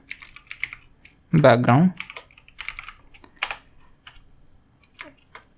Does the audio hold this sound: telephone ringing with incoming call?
no